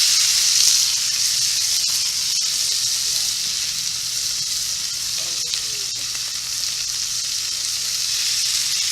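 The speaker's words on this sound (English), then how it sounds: "So we're going to put our scallops in." Scallops dropped all at once into hot oil sizzle and fry loudly and steadily, a dense close hiss with a few faint clicks and stirring sounds.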